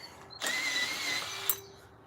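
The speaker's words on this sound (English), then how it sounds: "I could try the other drill." A cordless power drill, used for chainsaw-style bear carving, whirs at steady close range for about a second, starting abruptly and cutting off with a brief click at the end.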